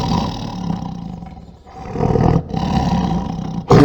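A big cat in the video game Gabriel Knight 2 lets out a loud, rasping roar that swells, dips briefly, then surges again before cutting off.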